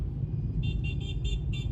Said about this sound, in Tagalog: Ano ba naman traffic yan